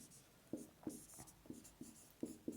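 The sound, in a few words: writing with a pen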